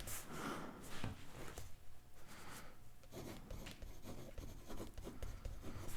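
A pen scratches out text on a card design sheet, continuous strokes with brief pauses and soft rubbing, close and moderately loud with no speech.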